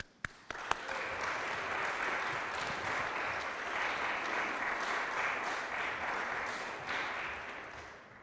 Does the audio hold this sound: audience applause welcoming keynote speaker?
yes